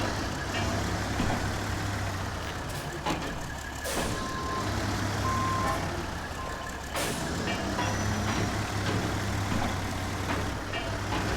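A heavy truck in the SnowRunner video game idles with a low, steady engine drone while a reversing alarm beeps at even intervals over the top, loud and continuous.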